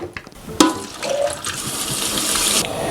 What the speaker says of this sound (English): I'm gonna drain these, rinse them off